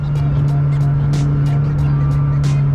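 A McLaren 600LT's engine and exhaust drone steadily from just behind the cabin while driving on the road, a loud, constant hum with a voice talking over it.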